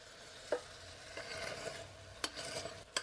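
Old emergency ration food from 1899–1902 poked and stirred around in a pot, giving a few quiet scraping clinks and soft stirring sounds spread over a faint background.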